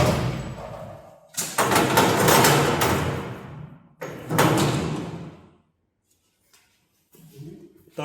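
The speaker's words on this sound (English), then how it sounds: "Third time we are opening the door." A door on a shatter test apparatus loaded with iron ore opens with two loud, grinding, rattling sliding bursts, followed by a pause and a quieter clunk.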